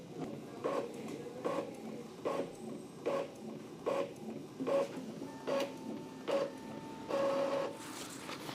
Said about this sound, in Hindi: चलो इसी चीज़ को फोटो कॉपी करते हैं और यहाँ से मैंने ब्लैक वाला बटन प्रेस किया